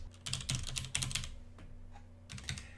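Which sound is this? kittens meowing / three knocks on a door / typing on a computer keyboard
typing on a computer keyboard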